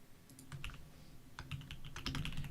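Computer keyboard keys clatter in quick, uneven bursts of close, soft typing, with brief pauses between flurries and no speech.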